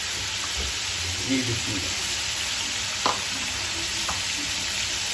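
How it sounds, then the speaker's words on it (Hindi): Matar gosht fries in a pan with a steady close sizzle and occasional stirring clinks, while a person speaks briefly over it. "इसको हम करेंगे 7 से 8 मिनट अच्छी तरह फ्राई"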